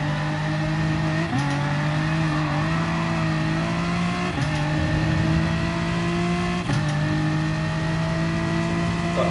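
Race car engines roar in a racing game during an FIA Nations Cup round at the Dragon Tail track, steady high revs with brief dips at gear shifts, loud and continuous with another car alongside.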